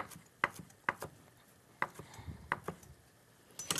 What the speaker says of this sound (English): What I'm going to do now is I'm going to just cut up the parsley. I'm just going to chop.